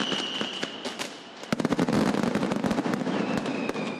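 Fireworks and firecrackers at the Las Fallas festival in Valencia, Spain, crackle and bang in dense rapid volleys, loud and close, with a sustained whistling tone over the early bursts.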